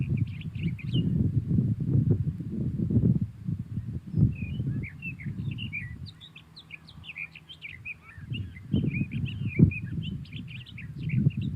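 A sagebrush songbird pours out a long, rambling song of rapid high chirps and warbles that runs on continuously, heard over a low rumble of background noise that drops away briefly midway.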